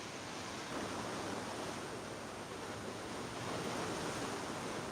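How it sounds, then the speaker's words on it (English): Pacific Ocean surf at sunrise, a steady wash of breaking waves with soft swells rising and falling, moderately faint and continuous with a touch of wind, no voices. "I want to give you a little ocean ASMR for your screensaver"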